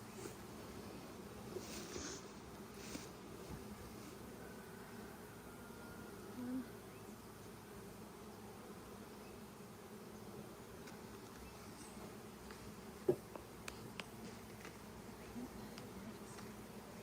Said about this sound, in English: So now these are honeybees?